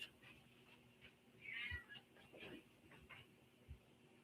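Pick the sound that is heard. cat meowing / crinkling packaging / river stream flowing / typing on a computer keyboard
cat meowing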